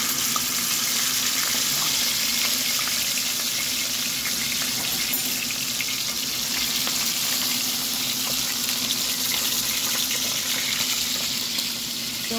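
Fish sizzles and crackles steadily in hot oil after being seasoned with salt, a loud continuous frying hiss close by with no talking.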